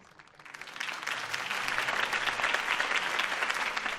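A crowd at a political campaign speech in Batman: The Telltale Series breaks into applause, swelling from a few claps into steady, dense clapping that holds strong to the end.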